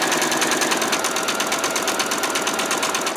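A sewing machine stitches fabric for a doll's skirt, its needle hammering in a fast, even mechanical rhythm, close and loud without pause.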